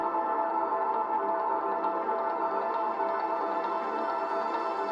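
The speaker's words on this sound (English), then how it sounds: "This sound is a piano, which plays the root note, which is A in this case" A looped piano playing the root note A, run through a guitar rig, gives a dense, steady, sustained wash that holds at a moderate level throughout.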